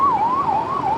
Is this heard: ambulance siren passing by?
yes